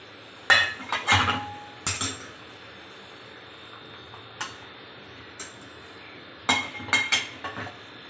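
A plate and dishes are handled at a kitchen table, giving a series of sharp ceramic clinks and knocks in small clusters, close and fairly loud, with short quiet gaps between them.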